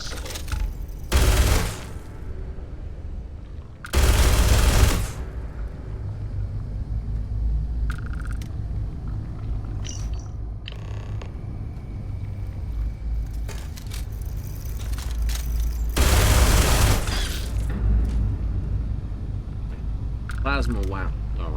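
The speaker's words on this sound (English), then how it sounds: "Plasma weapon, or my particle weapon, works quite nicely for annihilating whatever I pointed at." Energy weapon fire in the Starfield space game: several loud broadband blasts in bursts, with a steady game soundscape and smaller effects between shots.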